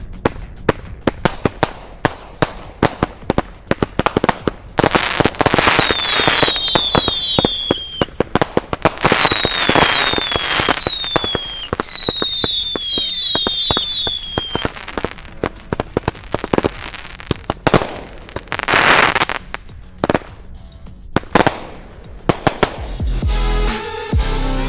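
Three fused StarCats firework cakes fire together in a finale, with a long dense barrage of loud booms and crackles, whistling rising tails and sharp pops, then it stops near the end.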